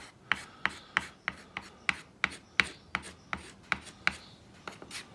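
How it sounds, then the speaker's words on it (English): Firm hand rubbing with added pressure, heard as about a dozen quiet, evenly spaced scraping strokes in a steady rhythm, close and alone. "I need a little bit more rubbing here. Put a bit more pressure."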